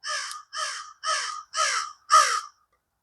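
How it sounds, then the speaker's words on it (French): A crow gives five harsh caws in an even, deliberate series, each about half a second long with short gaps, fairly close and clear against silence. "la corneille est en feu ici"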